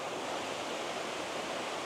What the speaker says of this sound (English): So here behind me there is a waterfall.